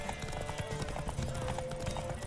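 Horse hooves clip-clop at a fast, steady gallop during a derby race in the video game The Witcher 3, with game music and a faint whinny mixed in, loud and close throughout.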